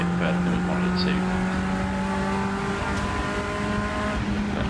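A race car lapping Rockingham circuit on a trackday, with a steady, loud engine drone held at a constant pitch from inside the car, and a voice talking faintly under the engine.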